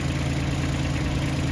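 A tractor engine idles with a tiller hooked up, a steady low rumble close by with constant vibration and no pauses.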